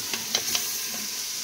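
Sayote with chicken liver and gizzard sizzling in a frying pan while a utensil stirs, a steady hiss broken by a few quick scraping strokes, close and with no talking.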